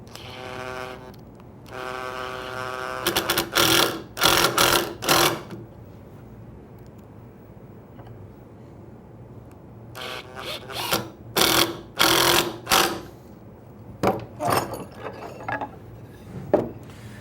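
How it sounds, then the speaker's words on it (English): Screws are driven into counterbored wood pieces with a power driver, heard as several separate bursts of whirring and ratcheting with quiet gaps between them, close and loud. "Screw things together."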